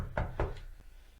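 Knuckles rap on a door: two firm, close knocks in quick succession, followed by a fainter third tap, all quiet and dull.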